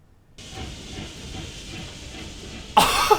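A train enemy in the video game Octopath Traveler II gives off a steady steam hiss, then a sudden louder burst of hissing rumble near the end.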